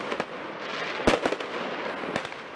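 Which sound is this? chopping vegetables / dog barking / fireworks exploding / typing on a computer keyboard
fireworks exploding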